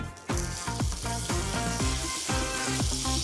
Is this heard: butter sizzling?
yes